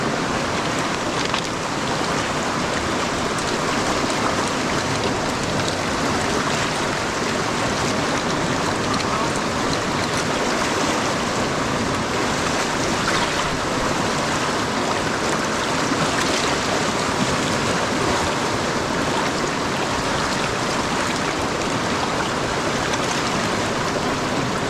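The Kenai River in Alaska rushes in a steady, broad wash of flowing water that stays loud and unbroken throughout, with no voices over it.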